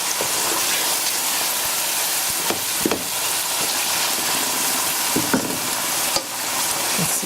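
Watercress saag fries in a fennel mixture in a pan, a steady loud sizzle with occasional stirring scrapes and clinks, no voices.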